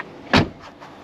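A single solid thump as a BMW electric car door swings shut, close and short. A couple of faint rattles or clicks follow in a quiet setting.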